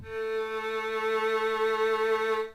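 A single sustained bowed violin A note, steady and clear with rich overtones, held for a couple of seconds before fading out.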